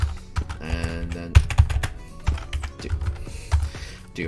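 Fast, uneven clatter of a computer keyboard being typed on, close up, with clustered keystrokes and a few louder thumps over a faint background of game sounds.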